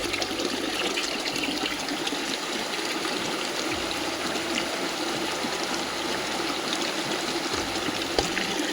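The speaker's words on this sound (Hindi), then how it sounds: "चलिए पानी भर लेते हैं यहीं से।" Cold water pouring from a stone canal into a bottle in an Uttarakhand village, a constant close splashing gush with trickling texture and no talk over it.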